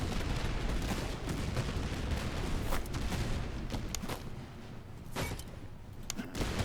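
Musket volley fire in the Master of Command video game, a dense crackle of overlapping shots and several distinct sharp reports over a rumbling battlefield din.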